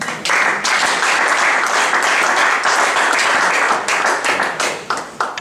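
A church congregation applauds during a sermon, with loud, dense clapping that holds steady and then thins toward the end.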